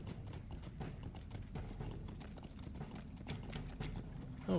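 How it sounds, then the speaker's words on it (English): A horse in the online game LOTRO trots with steady, rapid clip-clop hoofbeats, soft and a little distant, running continuously under a faint game ambience. "Our horse, Willie the horse."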